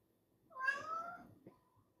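A house cat lets out a single drawn-out meow, fairly faint and somewhat distant in a quiet room, followed by a brief softer chirp.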